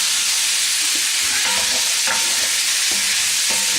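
Onions fry in a pot for beef in Guinness, a continuous loud sizzle broken by several scraping stirs of a spoon against the pot.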